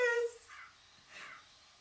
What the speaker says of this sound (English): And then the crow just spoke up again.